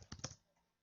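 A few quiet keystrokes on a computer keyboard while writing HTML code, a quick cluster of taps then one more tap after a short pause.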